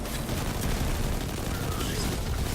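Sustained, dense gunfire in the video game Destiny 2, a loud continuous barrage of rapid shots and booms filling the whole stretch with no pauses.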